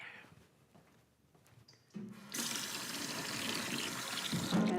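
Cold tap water gushing steadily into a hydrotherapy tub, a loud, continuous broadband rush that starts abruptly partway through after quieter handling noises.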